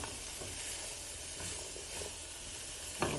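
Bacon frying in a hot pan for fried rice, a steady soft sizzle and hiss with faint stirring scrapes, fairly quiet, ending in a brief sharper clink.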